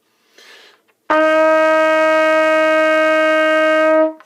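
A trumpet sounds one long, steady, sustained F note for about three seconds, loud and close, after a brief soft breath or noise.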